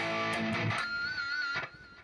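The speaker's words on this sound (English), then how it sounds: "And I like to put a pinch harmonic on that." A single sustained electric guitar note on the 6th fret of the G string with a squealing high pinch harmonic, ringing out briefly and then fading quietly.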